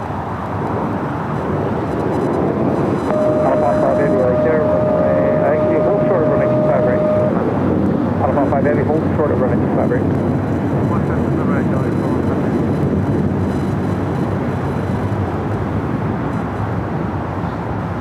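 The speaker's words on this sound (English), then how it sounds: "Next takeoff is Alaska Airlines Flight 1315 heading to Portland at a 737-900ER" An Alaska Airlines Boeing 737-900ER takes off at LAX, a loud steady jet roar sustained across the whole stretch with a thin whine tone partway through, alongside talk.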